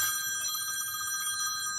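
A telephone bell rings steadily and continuously, a bright metallic trill held at moderate level throughout with no talk over it.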